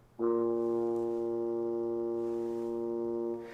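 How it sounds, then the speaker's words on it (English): A single low synthesized tuba note, B flat, sounds for about three seconds, steady and sustained with a sharp onset, then fades out. "I can pick tuba, I can put the sustain on, and I can play B flat"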